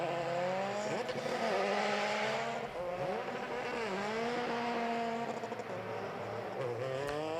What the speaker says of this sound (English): As the cars just head through the chicane in the formation lap.